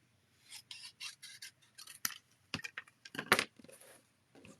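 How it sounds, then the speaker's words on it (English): Scissors snip through folded cardstock in a run of crisp, close cuts, some quick and some spaced out, with light paper rustle and handling between them. No one speaks. "Grab your scissors. This one we're going to snip up this way."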